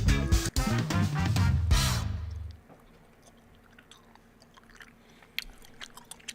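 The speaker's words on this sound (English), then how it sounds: "I'm going to stop chewing the gum" Gum being chewed close to the mic: loud wet smacking and crunching for the first couple of seconds, then quieter intermittent mouth clicks and small smacks, with no talking.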